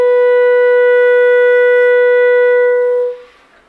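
A clarinet plays a single second-octave C sharp in a B minor scale, a bright, loud, steady tone held for about three seconds before it fades out.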